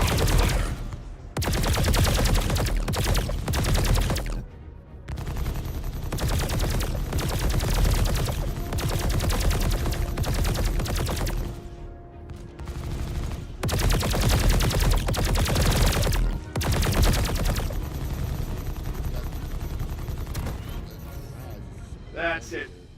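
Rapid bursts of energy-weapon fire pound a ship's shields in Star Citizen, sustained loud volleys with brief gaps between barrages.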